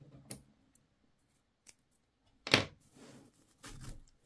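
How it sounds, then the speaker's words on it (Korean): Scissors snip crochet yarn: a small click, then one crisp close cut, followed by a softer rustle and another snip in a quiet room. "실 잘라주세요"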